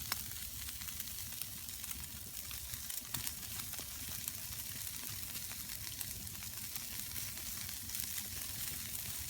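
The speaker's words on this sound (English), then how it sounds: "some bacon rolls and a coffee. I'm quite hungry again. It smells amazing. Mouth's watering, just watching it cook." Bacon sizzling in a pan over a campfire in winter for bacon rolls, a steady close crackle and hiss with occasional pops.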